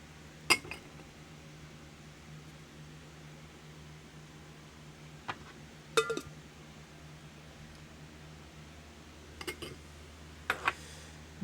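A big ice cube knocking against a martini glass, giving a few sharp, faint clinks spaced out over a low steady hum in a quiet room.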